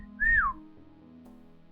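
One short whistled note from a person, swelling up then sliding down, close and fairly clear, followed by a low steady background hum.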